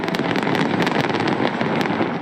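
New Year's fireworks burst over Victoria Harbour in Melbourne's Docklands, a dense, loud roar of overlapping bangs and crackles with sharp pops standing out, no voices.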